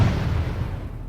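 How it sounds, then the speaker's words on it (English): A double-barrel shotgun blast fired at point-blank range, a loud, heavy boom with a broad, rumbling tail that fills the whole moment. It stands alone, with no voices. "Johnny pulled the trigger, emptying both barrels into its face at point-blank range"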